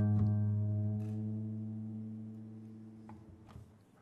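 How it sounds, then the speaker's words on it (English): A struck guitar A string ringing with a tuning fork, rich steady overtones slowly decaying over a few seconds with faint wavering beats, close and quiet, with small ticks and no speech. "I'm also going to listen to the overtones in the A string on this guitar, and I'm going to hear the beat"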